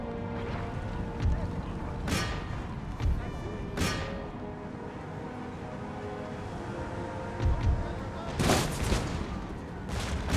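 Scattered musket volleys and artillery blasts from a Total War: Empire battle crack out in a few sharp bursts over a steady background of game music and battlefield ambience, with someone talking over it.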